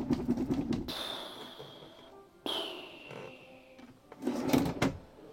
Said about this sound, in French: Et alors ici, c'est des tiroirs.